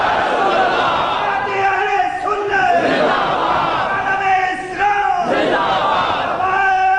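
A crowd at a Sunni rally shouting slogans back in unison, loud massed voices swelling and falling in repeated waves with a lead voice calling between responses.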